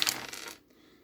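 Dice rattling and tumbling during a tabletop Strat-O-Matic baseball game, a bright clattering burst that trails off within about half a second, heard alone.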